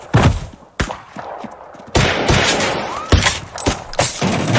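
Gunfire in a film scene from The Book of Eli: several loud, sharp shots and bursts at irregular intervals with reverberant tails, no talking over them.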